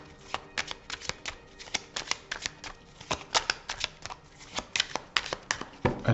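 A deck of tarot cards shuffled by hand, with rapid crisp riffles and slaps of cards in quick irregular bursts, loud and close, with no talk over it.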